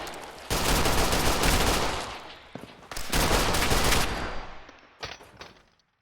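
Loud bursts of gunfire from raiders in the Fallout 4 wasteland, two long rattling volleys with a few single shots between and after, close and dense, with no talk over them.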